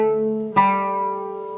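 A single B flat plucked on an oud, a sharp close attack ringing out and slowly decaying, with a softer sustained tone before it and no voice.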